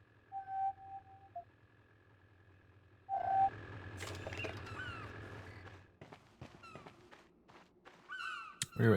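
Crows cawing in the video game Beyond Good & Evil, a couple of drawn-out calls over a quiet ambient game soundscape, followed by scattered thuds and footstep-like noises.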